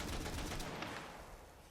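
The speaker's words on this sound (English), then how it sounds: "A Gatling gun." Gatling gun in the shooter Borderlands 3 firing a fast, continuous rattling burst that starts loud and gradually fades over under two seconds.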